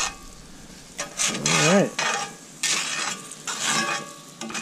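Butter and homegrown garlic sizzling in a hot pan, a steady frying hiss in close bursts with stirring and utensil scrapes, and a voice speaking briefly.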